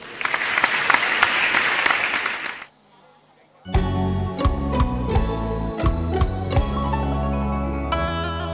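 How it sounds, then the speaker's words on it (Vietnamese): An audience applauds loudly at a live cai luong opera performance, a dense burst of clapping that stops abruptly, followed after a short silence by music with percussion. "Ở phía sau vỗ tay lớn đó đúng không?"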